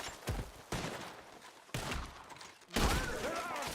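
A Red Dead Redemption 2 shootout delivers several sharp, loud gunshot blasts in uneven bursts, each followed by a booming echoing tail. The final shots ring with a metallic, whistling decay.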